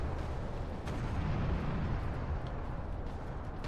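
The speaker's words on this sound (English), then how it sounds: "They really liked firing that gun off." A big orc gun booms in a Warhammer video game, a steady, dense low rumble of heavy fire rolling on for a few seconds with no clear gaps between shots.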